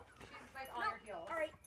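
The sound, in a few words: dogs barking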